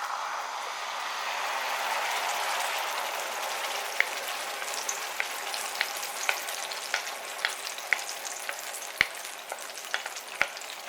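Red enchilada sauce sizzles and fries in a hot pan, a steady crackling hiss with scattered sharp pops and spatters, close and continuous without speech.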